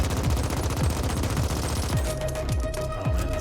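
Dense, loud automatic gunfire rattles continuously in The Ascent, a sci-fi video game, with rapid overlapping shots and some sweeping laser-like tones among them.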